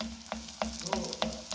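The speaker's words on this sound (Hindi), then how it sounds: "अब आप इस पे गरम गरम ऑयल ऊपर डालते जाए।" Chana dal kachori frying in hot oil that foams from earlier use, with a steady crackling sizzle and periodic sharp pops as oil is spooned over, close and continuous without talk.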